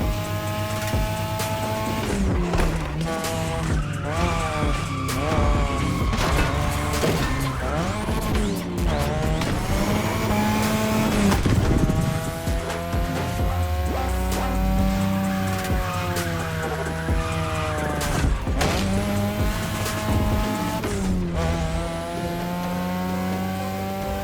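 Cars racing in The Crew Motorfest street races, with engines revving and shifting, long tire squeals and skids, loud and continuous throughout.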